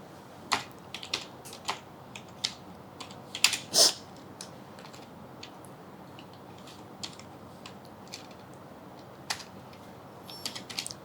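Keys clacking on a computer keyboard in bursts, with a few sharper, louder strokes in the middle and scattered lighter taps, close and alone.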